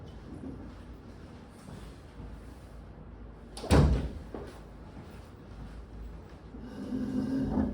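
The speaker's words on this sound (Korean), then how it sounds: "문을 닫고 들어가셔라" A single door shuts with a sharp, fairly close thud in the middle of a quiet room, surrounded by low background hiss and a slight rustle near the end.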